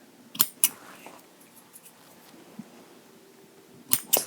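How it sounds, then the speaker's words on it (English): Scissors snip loose threads off clothing up close, with two quick crisp cuts near the start and another pair at the end, separated by soft fabric handling in a quiet room. "Just cutting off any longer threads."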